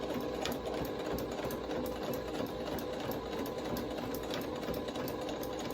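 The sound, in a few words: sewing machine stitching a fabric face mask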